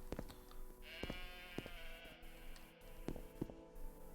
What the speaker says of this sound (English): I love that random like goat and or sheep sound effect that Morrowind has